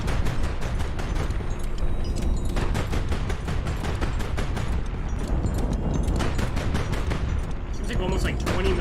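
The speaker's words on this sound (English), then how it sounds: "Seems like almost like 20mm guns." Rapid gunfire from 20mm guns in the Highfleet video game, dense, loud bursts of shots in quick succession throughout, with a voice talking over them.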